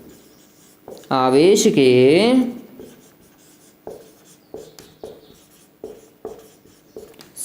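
Chalk or marker strokes scratch out a run of short, rhythmic writing marks on a board in a Hindi physics lesson, following a brief spoken phrase by the teacher.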